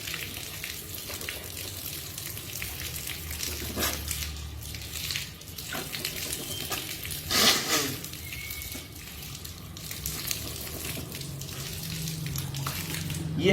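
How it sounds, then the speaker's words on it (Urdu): Water splashing and trickling during wudu as mouth and nose are rinsed, with intermittent close splashes and a running tap, brief louder bursts over a quiet background. "اب ہم ناک اور منہ میں ایسے پانی چڑھائیں گے"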